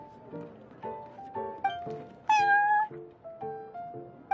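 A cat in Genshin Impact meows again and again in short, varied calls, with one longer, louder, higher meow in the middle, close and clear against a quiet background.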